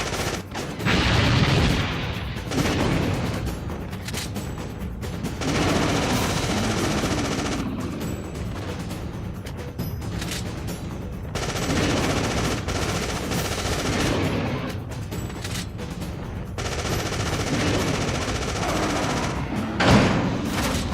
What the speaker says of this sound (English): now we have to actually just shoot these guys manually while running